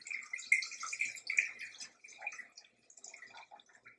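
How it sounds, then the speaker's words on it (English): Pickling brine poured from a jar into a pot, a light, splashy trickle of liquid, close and fairly faint, thinning into scattered drips toward the end. "I'm just going to dump this now into a pot"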